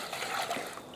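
Water poured for a turkey brine, a brief, steady trickling stream of liquid, close and moderately quiet.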